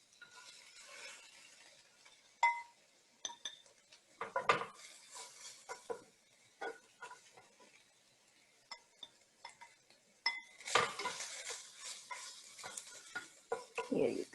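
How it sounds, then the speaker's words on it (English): Cooked ground beef is scooped out of a hot skillet in a home kitchen, with scattered scraping and clinking of a utensil against the pan in short bursts and a louder clatter near the end. "I'm going to take some extra ground beef and set aside for another dinner"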